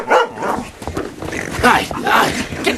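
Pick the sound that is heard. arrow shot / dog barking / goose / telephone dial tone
dog barking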